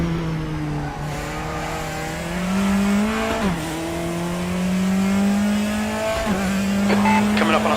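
Audi and Mazda race cars fight for position in a pack on the Portimao circuit in RaceRoom, engines revving and climbing through gear changes, with tire squeal and a brief higher whine near the end. The cars are close and loud.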